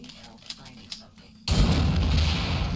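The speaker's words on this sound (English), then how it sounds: "Single shot." A single gunshot in System Shock 2 cracks out abruptly after a few faint clicks, leaving a loud, sustained roar of noise behind it.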